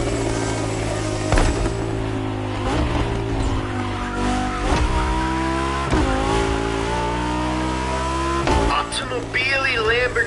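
Lamborghini and Ferrari race cars in The Crew Motorfest, loud engines revving and shifting through gears with pitch sweeping up and down, punctuated by sharp impacts and tire squeal, with a voice talking over the racing.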